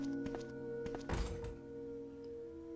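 A single dull thunk from a locked door in the video game Resident Evil, heard once over a steady low game hum with faint taps before it.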